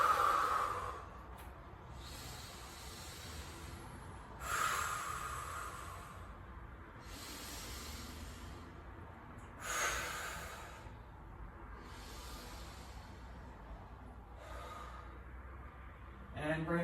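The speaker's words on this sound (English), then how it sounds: "Deep breaths." Slow, deep breaths during a yoga side plank, each long airy exhale swelling and fading at intervals of a few seconds, close and soft with quiet background between them.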